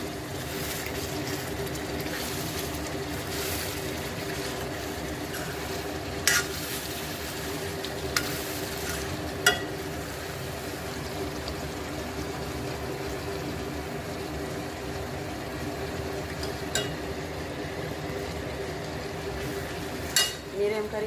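Chicken fries in a pan with a steady low sizzle and occasional stirring scrapes and clinks of a utensil. The cooking sounds come through continuously in a kitchen, with no speaking.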